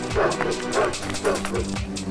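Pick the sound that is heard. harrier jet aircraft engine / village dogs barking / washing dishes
village dogs barking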